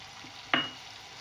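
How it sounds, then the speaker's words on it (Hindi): Tomatoes tipped into hot, frying masala for matar keema give one sudden loud sizzle that quickly fades back into a steady low frying hiss, with no talking. "मसाला मैंने भून लिया। अब इसमें मैं ये टमाटर डाल दूँगी।"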